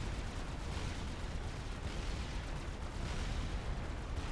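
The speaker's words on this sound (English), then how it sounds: "You don't normally see these guns fire, the little machine guns on the side" Continuous dense rattle of small side-mounted machine guns on a Fat Boy unit in the strategy game Supreme Commander, mixed with heavy battle noise and explosions, loud and unbroken throughout.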